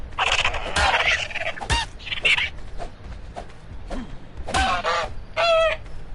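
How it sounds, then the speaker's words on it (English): Bird cries and honks from a dodo under attack in the video game Ark, several sharp squawks in bursts over a low game ambience, close and fairly loud, no talking. "I can very easily kill this dodo bird."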